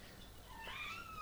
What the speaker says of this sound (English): My cat is crying.